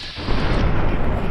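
Dense, continuous roar of turret gunfire in Fallout: New Vegas, loud and sustained with rapid bursts blurring together and no voices.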